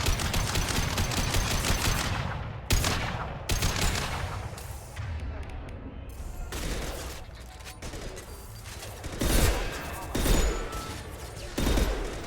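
Rapid sniper rifle shots and heavy gunfire in Mass Effect Legendary Edition, loud repeated blasts with mechanical clatter over a dense rumbling battle backdrop, no voices.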